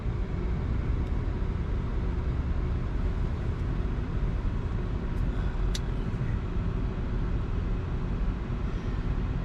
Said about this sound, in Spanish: Es un peligro porque están pasando coches allí